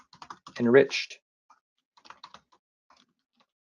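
Typing on a computer keyboard, key clicks coming in short, light clusters with gaps between them, close and quiet after a brief spoken word.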